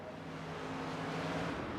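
USAC Silver Crown race car with a 358 cubic inch V8 making 850 horsepower, direct drive to the rear axle, in iRacing at Richmond Raceway; a steady engine drone holds at an even pitch throughout, close and continuous.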